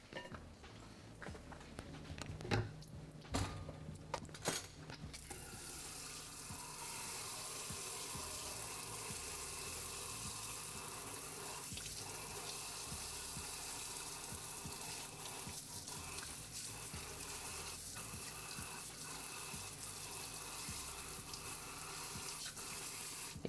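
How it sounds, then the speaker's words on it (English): A kitchen tap starts up and runs steadily to rinse dishes, a continuous hissing splash of water into a sink, preceded by a few clattering knocks and handling sounds. "Give those a quick rinse before it gets stuck on"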